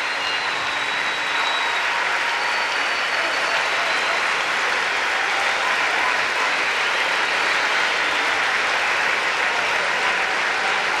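A large crowd in an arena in Aarhus applauds a gymnast's bars routine at the world championships, producing a dense, loud, unbroken wash of clapping and cheering that holds steady throughout.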